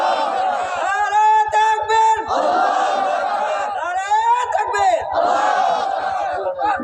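A crowd at an Islamic religious gathering answers the Nara-e-Takbir call, with loud, close, reverberant waves of many voices chanting in unison in three surging rounds, separated by brief gaps.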